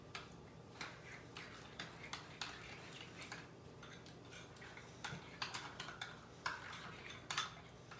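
Cornstarch and yogurt are stirred together in a bowl, with a spoon giving quiet, rapid scraping and clinking taps against the sides in an uneven rhythm.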